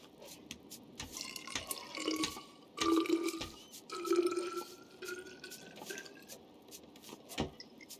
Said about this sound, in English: I'm just gonna refill my water bottle